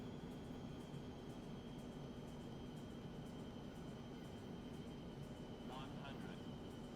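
A small airplane's engine drones steadily throughout in flight at about 95 knots, a constant cockpit hum with a faint tonal whine, with a voice speaking under the engine noise.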